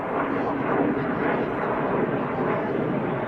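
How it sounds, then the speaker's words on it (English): A fixed-wing airplane droning far overhead at an outdoor baseball game, a continuous broad rumble holding steady throughout. "you can see the airplanes just in the distance, a little speck as they go by on the camera"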